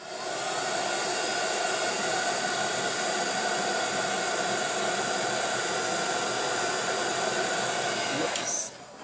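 A hair dryer blows steadily and loudly on freshly applied craft paint, a constant rushing hiss that runs nearly unbroken before cutting off abruptly near the end.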